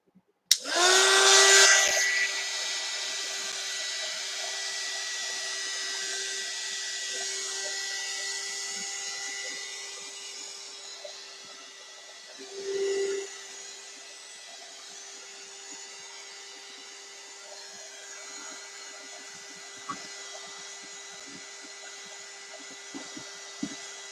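A hair dryer blasting over mixed media artwork, loud and close at switch-on, then settling into a steady whirring drone that runs the whole time with a brief surge partway through.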